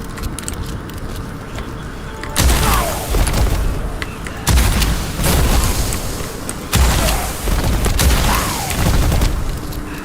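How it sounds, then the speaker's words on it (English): Shotgun blasts in the dark fantasy shooter Witchfire, with pellets that burst on enemies: four heavy booming bursts a couple of seconds apart, each loud and broadband with crackling explosive tails over a steady game background. "this shotgun now has pellets that explode on an enemy, either while they're still alive or just after they've died"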